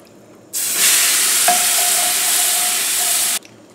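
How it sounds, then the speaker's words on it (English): Turkey pan juices being stirred into browned drippings for gravy, a steady close sizzle and hiss with scraping stir strokes filling about three seconds, then stopping abruptly. "we need to kind of mix all this stuff up real good"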